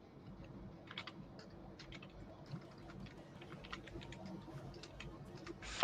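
Rapid clicking of a computer keyboard being typed on, a quiet, steady patter of keystrokes close by under a low background hum, with no speech.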